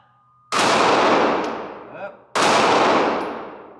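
Two loud, sharp pistol reports from a Sig Sauer P365 XL fired one-handed at an outdoor steel target, each followed by a long ringing decay; the second shot comes under two seconds after the first.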